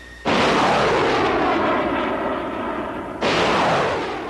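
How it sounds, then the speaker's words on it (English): Artillery fires across a border, with a sudden heavy blast rolling into a long, loud, sustained roar. A second booming onset cuts in near the end and keeps the rumble going. "In preparation for a ground assault, the Allies increased artillery firings across the border today."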